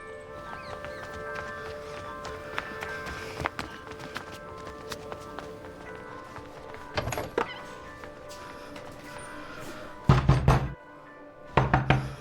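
Knocks on a door, a quiet room ambience broken by a few sharp thumps at the end, two separate clusters of firm raps near the close.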